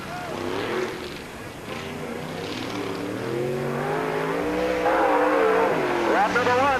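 A race car, number 5, on a qualifying lap at Peoria Speedway during the 1997 Busch 100, engine rising and falling through revs with tire squeal, heard under an announcer's voice over the PA.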